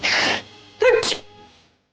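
A sharp indoor sneeze in two bursts: a breathy intake hiss followed by a voiced explosive sneeze, heard close and alone, ending in a fading exhale.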